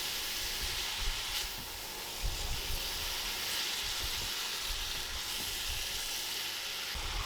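Chicken chow mein noodles with sauce sizzle and steam in a hot pan, a steady loud hiss with intermittent stirring thumps throughout.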